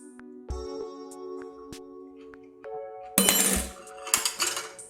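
A spoon clinks against a dish while someone tastes Mexican food. A few bright, ringing taps are scattered through the quiet, then a louder rattling clatter follows near the end, with no talking.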